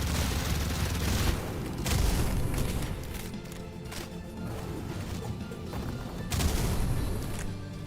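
Game gunfire from two shooters in a speedrun run, heavy booming bursts with loud peaks near the start, around two seconds and again past six seconds, over a constant dense rumble.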